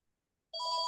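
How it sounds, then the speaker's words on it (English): A telephone starts ringing halfway through, with a steady electronic trill that is moderately loud and close, after a short silence. "Phone, I don't want the phone ringing."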